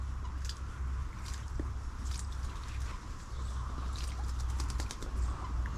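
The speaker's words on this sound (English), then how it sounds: "Real good bath down there, the blackbird" A blackbird bathes at the water's edge, its wings flapping in short splashy bursts that repeat irregularly over a low steady background rumble, with no voices.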